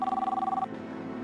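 A telephone bell rings close by in a brief, rapid trilling burst that stops after about half a second, leaving a faint hum behind.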